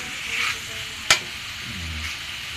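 Pork cubes being stirred in a pan as they cook, a steady sizzle with a single sharp scrape of the utensil partway through, close and alone with no talking.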